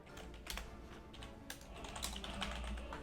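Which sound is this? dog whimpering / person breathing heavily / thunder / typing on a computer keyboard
typing on a computer keyboard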